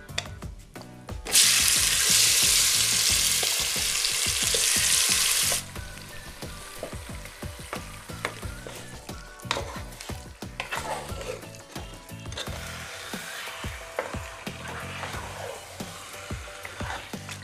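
Chicken dropped into a pan of hot oil with cinnamon, cloves, cardamom, fennel and bay leaf for biryani, giving a loud burst of sizzling that settles into quieter crackling with stirring and clinks, close up and without speech.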